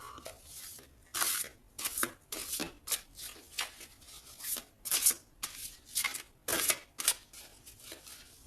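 Tarot cards being shuffled by hand, a series of quick crisp riffling bursts with short pauses between them, close and fairly quiet, with no talking.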